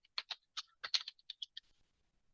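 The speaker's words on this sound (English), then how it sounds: "We'll type in Windows Firewall in our search bar." Typing on a computer keyboard, a quick burst of about a dozen crisp close key clicks in uneven rhythm over about 1.5 seconds, then quiet.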